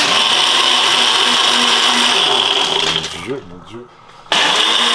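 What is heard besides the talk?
blender running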